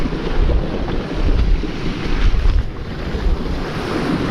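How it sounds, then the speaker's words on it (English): Sea swell and tidal surge running around a rocky headland, a loud, churning wash of water mixed with heavy wind buffeting the microphone, rising and falling in waves. "big surge in the water. As that tide wraps around this head, creates a lot of swell that runs through here and a lot of tide"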